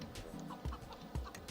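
Chicken clucking in the video game Shrek Extra Large: two short, loud low cluck bursts stand out against a busy game-sound background.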